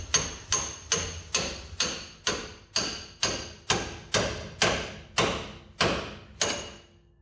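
Hammer blows knocking apart a suspension joint on a 1966 Pontiac Catalina wagon, about a dozen sharp metallic strikes at a steady rhythm, close and loud, each ringing briefly before the next, with no talking.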